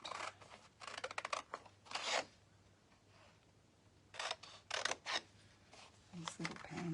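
Scissors snipping out small paper pansy shapes for a handmade triple panel easel card, several quick bursts of crisp close cuts separated by short quiet gaps.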